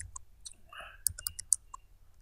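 Keys tapped on a computer keyboard while values are entered into a program, a quick irregular run of light clicks, close and fairly quiet, with no talk over them.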